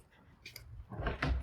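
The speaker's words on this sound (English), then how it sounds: "You push this button, the door swings open." A push-button automatic door on a campus building swinging open, a soft mechanical rumble and thud rising near the end, faint and close, with no talking.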